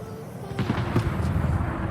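Rapid-fire salvos from a Spanish cruiser's guns in the naval video game World of Warships form a dense, continuous low rumble of overlapping booms, loud and steady across the moment.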